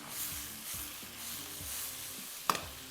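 Onion and garlic fry in oil with a steady, soft sizzle and occasional stirring scrapes, plus one brief sharp clatter near the end, close and fairly quiet.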